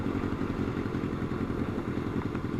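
A Honda Nighthawk motorcycle on the road gives a steady, dense engine drone with low rumbling pulses that stays loud and constant throughout, with no talking.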